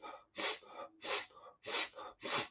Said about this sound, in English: you breathe through your nose pretty vigorously